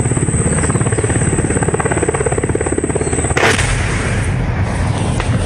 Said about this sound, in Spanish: se ve como uno de los helicópteros Black Hawk de la policía volaba por la zona rural del municipio cuando fue atacado